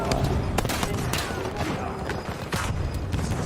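Gunfire in a first-person shooter video game, heard as dense, continuous bursts of shots and booming impacts layered over one another, loud and close throughout with no pauses.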